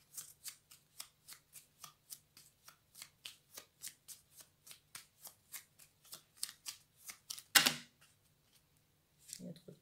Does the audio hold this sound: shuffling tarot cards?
yes